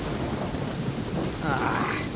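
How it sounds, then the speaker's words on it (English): A lightning storm in the video game Genshin Impact brings steady heavy rain with low rumbling thunder throughout, dense and continuous, with no talking over it. "Lightning storm!"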